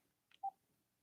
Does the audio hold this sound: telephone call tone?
yes